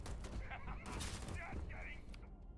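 A hand cannon fires rapid, sharp shots in a video game, under excited voices talking over the action.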